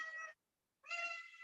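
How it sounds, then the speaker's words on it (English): A cat meows twice, clear and close. The two calls are separated by a short silence. "Yeah, my cat."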